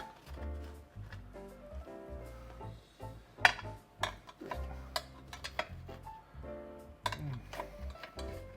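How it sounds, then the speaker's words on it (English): A metal spoon scraping and prying Yorkshire puddings out of a baking tin, scattered clinks and scrapes at irregular intervals, close and fairly quiet with a few sharper knocks. "I think I can use a spoon to get underneath them"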